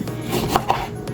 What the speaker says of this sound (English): Slice this thing and we squeeze it, okay, for the dressing.